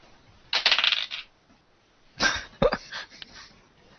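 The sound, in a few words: rolling a dice for a tabletop role-playing game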